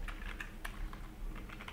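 Brisk typing on a computer keyboard, a quick run of light key clicks with short pauses between bursts, close and clear with no talking.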